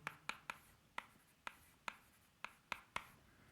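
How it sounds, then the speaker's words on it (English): Chalk or marker strokes tapping and scraping on a lecture-hall board, roughly eight or nine sharp, evenly spaced hits over a few seconds, fairly faint and close, with no voices. "let me write this as E"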